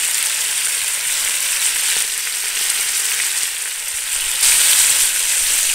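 A pork chop fries in balsamic vinegar in a hot pan, giving a steady, loud, close sizzle that runs on continuously and swells a little near the end, with no voices.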